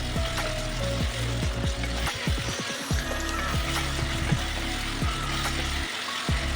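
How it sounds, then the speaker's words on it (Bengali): Chopped onions with salt frying in a pan, a dense continuous sizzle with scattered crackles and occasional scraping or stirring knocks, steady and close throughout. "পেঁয়াজটাকে ভালো করে ভেজে নেব।"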